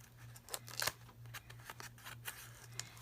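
Scissors snip through paper along the gaps between envelopes in a handmade journal, a run of close, crisp cuts with one louder slice near the start, over a steady low hum and no voices.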